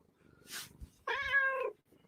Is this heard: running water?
no